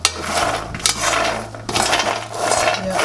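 Groundnuts roasting in a pan are stirred continuously, giving a steady rattling, scraping clatter of nuts shifting against the metal, with a few louder knocks as they are turned and spread out.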